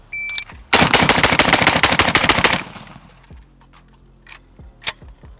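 A Bulgarian Red Star BSR47 rifle fires one loud, rapid burst of about fifteen shots that lasts roughly two seconds, then echoes die away and a few scattered clanks and single sharp pops follow.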